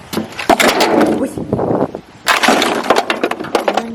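A glass breaks indoors amid household packing, with sharp shattering crashes that arrive in two bursts of splintering debris, close and loud, while voices talk nearby.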